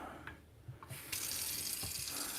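Cold tap water runs steadily over freshly churned homemade butter being rinsed, a continuous close splashing wash that grows louder and fuller partway through, with no talking.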